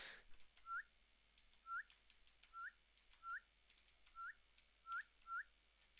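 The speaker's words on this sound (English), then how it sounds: "I want to check if the whistle" A short rising whistle repeats about eight times in an even rhythm in the Stuck In The Backrooms video game, thin and clear over faint keyboard clicks in a quiet room.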